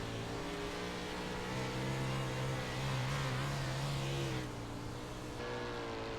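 410 sprint race cars roar as they accelerate off the green flag on a tacky dirt oval, engines revving loud and steady with rising pitch, a dense pack of motors blending into one continuous howl.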